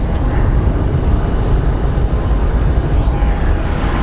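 A Southwest airliner, flight 2225 to LAX, at Phoenix Sky Harbor airport produces a loud, steady, low jet engine rumble and roar that stays close and continuous throughout.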